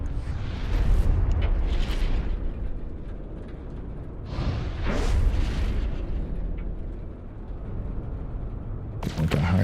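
Hazardous alien plants in No Man's Sky being shot and bursting: loud, booming pops recur several times, with a fresh burst at the very end, over a constant rumbling background.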